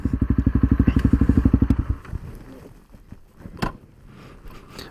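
A motorbike idles with a steady, close chugging rhythm for about two seconds on a forest trail ride, then cuts out abruptly, leaving quiet rustles and a couple of faint clicks and thumps.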